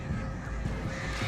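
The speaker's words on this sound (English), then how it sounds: "Of all the enemies in this game, the crows have been the worst." Crows caw in the video game Alan Wake: a brief burst of harsh, rasping calls over a dull, murky background, close and fairly loud.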